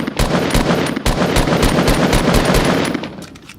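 Rapid automatic gunfire in the video game Fortnite, a loud, close, continuous rattle of evenly spaced shots that fades off at the end, with no voices.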